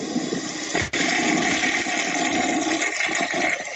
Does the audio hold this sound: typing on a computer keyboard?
no